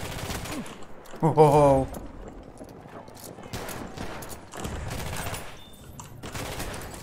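Gunfire in the World War I shooter Battlefield 1, several rapid bursts and scattered shots amid chaotic in-game noise, with a horse whinny near the start and a player's voice reacting briefly.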